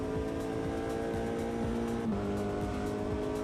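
Porsche race car in the Automobilista 2 racing game, its engine droning at high, steady revs with a brief pitch drop as it shifts or lifts, loud and continuous with faint tire noise.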